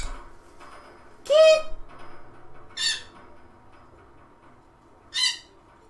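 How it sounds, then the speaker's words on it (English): In the video game Dwarf Fortress, a bird gives three separate squawking calls, the first loudest and lowest, spaced a second or two apart over a quiet background. "Crazy bird. Heckin' crazy bird."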